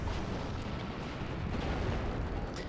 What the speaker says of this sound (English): Artillery coming in on those infantry.